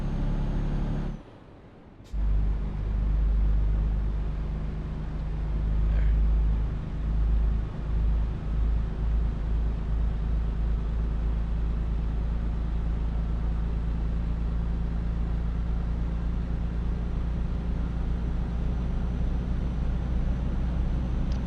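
A car engine drones low and steady while driving through a city, with a brief drop in level as gears are shifted, then a continuous rumble resumes close by without talk.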